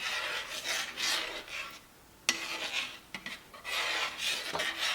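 A spoon stirs and scrapes through thickening mac and cheese sauce in a pot, a steady close rasping with brief pauses and a couple of sharp clinks against the pot.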